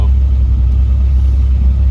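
A van with a strong engine but rough bodywork drives along a road, its steady low rumble continuous and close throughout, with no talk over it.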